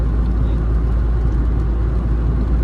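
A 1967 Volkswagen Beetle with a four-speed manual gearbox drives along, its engine a steady, loud, low drone with a constant whirring hum and no voices.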